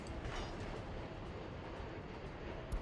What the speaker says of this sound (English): this construction train will actually just turn to the side and will start building one of these access points